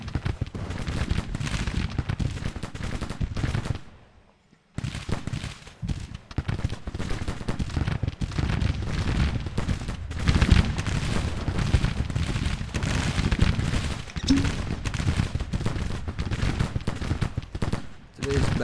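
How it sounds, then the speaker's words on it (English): Artillery batteries firing in a Civil War strategy game, a dense stream of loud booms and crackling volleys that drops out briefly before resuming. "It looks like my batteries are firing again."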